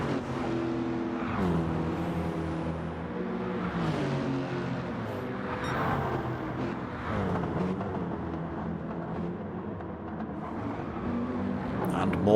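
Lexus GT3 race car lapping Mount Panorama at Bathurst in a racing game, its engine droning and shifting pitch through the twisty sections, steady and close for the whole stretch.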